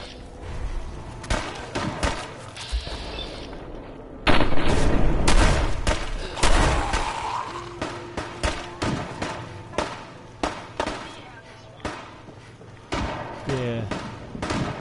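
Gunfire from a settler in the Fallout 4 video game cracks out in repeated sharp shots, some in quick bursts, with heavy thuds and in-game effects over a noisy battle, while a voice talks intermittently.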